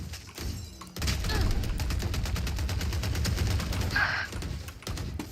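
Automatic gunfire in a Valorant pro match, MIBR versus DRX at Valorant Champions 2025, a loud, fast stream of shots lasting several seconds with a brief break near the end.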